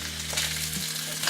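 Catfish pan-frying in hot oil on high heat sizzles with a steady hiss and a few small pops, close and fairly loud.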